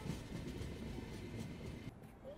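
The Tirumala Express rolls toward Samalkot Junction, a steady, close rumble of wheels and carriage noise that holds at an even level with no voices.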